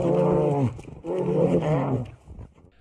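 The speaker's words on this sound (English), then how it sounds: "these two big brown bears were filmed fighting in the middle of the woods" Two big brown bears fighting in woods in Finland, giving two long, loud, deep roaring growls close by, separated by a brief pause and tailing off.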